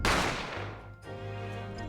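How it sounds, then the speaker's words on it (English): A single loud gunshot in The Great Ace Attorney Chronicles, a sharp blast at the start that decays over about a second, followed by a sustained low tonal ring. "I didn't have time to think about where the sound of the gunshot had come from."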